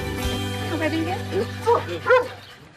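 An excited little dog gives a few short yips and barks in quick bursts, close by, mixed in with chatter and speech.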